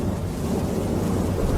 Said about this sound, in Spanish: Afuera llovía.